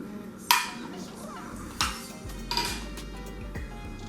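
A spoon stirs aguachile rojo ingredients in a bowl, making a few sharp metallic clinks and scrapes spaced irregularly against a quiet background.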